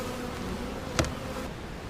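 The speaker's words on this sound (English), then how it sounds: "Excellent day to get out to the bee yard and just help out the bees get through the winter." Honeybees buzz in a steady, close drone at the hive in a bee yard in Jacksonville, North Carolina, on a warm late-December day, with one brief louder tap or bump midway.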